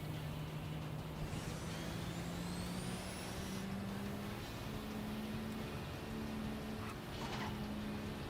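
Engine of a car in a video game drones steadily throughout with rising and falling tonal whines, loud and continuous with no talk.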